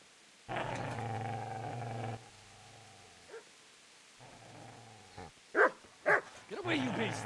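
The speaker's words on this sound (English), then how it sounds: "Get away, you mutt!" A dog in Kingdom Come: Deliverance growls in a long, close, sustained rumble, pauses, growls again, then breaks into a few sharp barks and yips, with a voice speaking between the growls.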